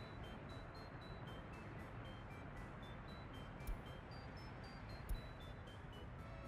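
A truck carrying 14 tons of prefabs in Workers & Resources: Soviet Republic sounds its reversing alarm, a fast, even train of faint high beeps over a low hum, with two brief clicks partway through.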